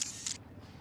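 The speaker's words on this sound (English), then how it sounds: "It was the loud and very noticeable sound of a camera shutter." A camera shutter in the visual novel game Chaos;Head Noah fires in two quick, crisp, bright clicks close together, short and distinct, with nothing else around them.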